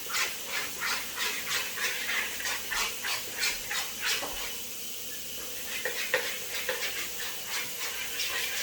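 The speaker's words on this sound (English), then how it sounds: "mixing up the third batter off right now" A whisk scrapes and clacks rhythmically through cake batter in a bowl, a steady close repeating stirring beat with a brief pause midway.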